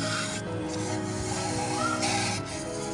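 A spray cleaner hisses steadily onto heavy carbon deposits inside a BMW E46's M54 engine, a continuous close hiss with slight rubbing texture and no talk.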